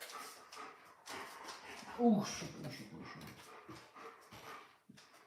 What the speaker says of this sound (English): Dog is agitated.